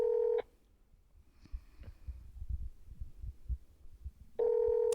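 Ringback tones from a dialed phone call pulse at both ends of the stretch, steady and clear, with quiet low thumping and handling noise between them and no speech.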